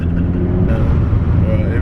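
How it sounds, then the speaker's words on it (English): A Honda Civic Type R FN2 engine revs hard into VTEC, a loud, dense rising drone heard from inside the cabin that sharpens into a higher, harder note partway through. "Let's hit that VTEC"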